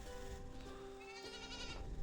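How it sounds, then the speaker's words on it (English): A goat bleats in the medieval village of the game Medieval Dynasty: a faint, wavering nasal call over a low ambient background, with the tremulous bleat rising briefly in the second half. "Goat."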